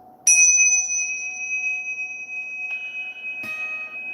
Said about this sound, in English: the bell is an F sharp